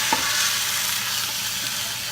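Food frying in a pan for a soup, a steady sizzle with a faint clink near the start and no one talking.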